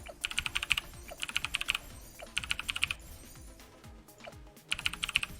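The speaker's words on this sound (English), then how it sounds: "the later portions of the game here are going to be where the keyboard spamming comes into massive effect" Rapid computer keyboard typing during gaming, fast bursts of clattering keystrokes in clusters separated by short pauses, close and fairly loud with no talking.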